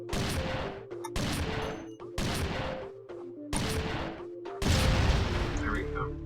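Gunfire from the shooter game Iji comes in five loud, heavy bursts, each cutting off sharply into brief silence, the last one longest and strongest.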